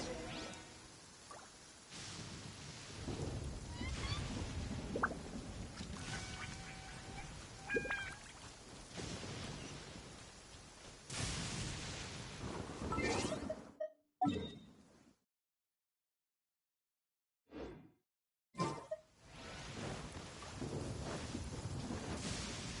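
Thunder rumbles in the fantasy video game Genshin Impact, a long, loud, rolling roar with rain-like hiss, broken by a brief silence near the end before the storm noise returns.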